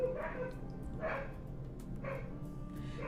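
Dogs bark in the distance, with three or four spaced, faint barks over a low background hum and no talking.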